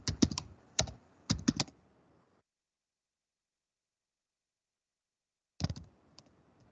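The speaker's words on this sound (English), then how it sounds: "So then you can go to double click" Crisp computer clicks, a few quick pairs of double-clicks close to the microphone, then a pause of silence before another short cluster of clicks.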